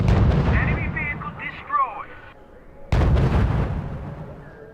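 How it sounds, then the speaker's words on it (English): Gunfire and artillery booms from the strategy game R.U.S.E., set at the Battle of the Bulge: loud, dense rumbling blasts at the start and again after a sharp cut, with radio-style voices and beeps in between. "Our units are under fire"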